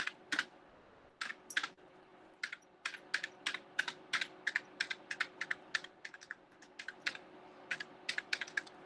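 Rapid, uneven keystrokes on a computer keyboard while text is typed into a PowerPoint slide, close and crisp, clattering on without any voices.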